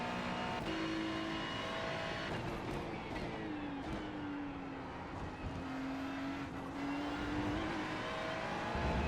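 A Ferrari GT3 race car in iRacing at Road Atlanta roars continuously and loudly, its engine pitch sweeping down and back up through gear changes and corners.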